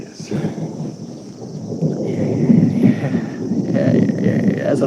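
Thunder follows a lightning flash, a deep, loud rumble rolling and building over several seconds, with a voice faintly present underneath.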